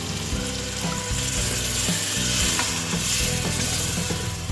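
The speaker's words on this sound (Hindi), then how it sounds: "अब मैं इसमें पानी डाल दूंगी।" Water poured into frying masala with black chickpeas in a pot gives a loud, steady hiss and sizzle with bubbling, heard close and continuous for several seconds with no talking.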